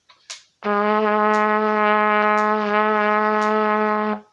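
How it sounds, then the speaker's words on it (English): A single sustained brass note, low B flat on trumpet played with the first valve, low and steady, held for about three and a half seconds after a brief breath or click. "So we're going to play first valve B flat."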